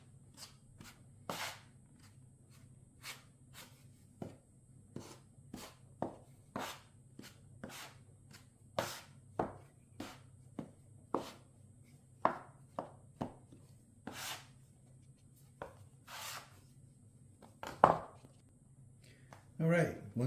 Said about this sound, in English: I have my pastry cutter here, and I'm just going to incorporate that ricotta